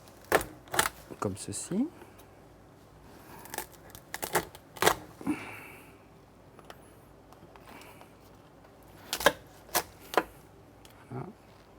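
Sharp snips and crunches as the tail is cut off a crustacean while preparing Breton specialties, irregular close clicks and cracks scattered under someone speaking French.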